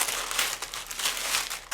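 Tissue paper wrapping around a crystal bead collection is peeled open with steady, close crinkling and rustling that continues alone and without a break.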